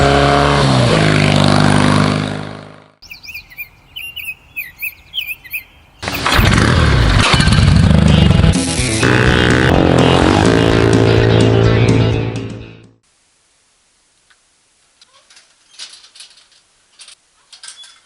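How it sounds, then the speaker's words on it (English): A 1959 AJS Model 31 British motorcycle engine revs hard and drops away through chicanes, loud and close, with gear changes, rushing wind and a quieter stretch where the engine fades to faint distant sounds. "out for another glorious ride on the 59 AJS 31"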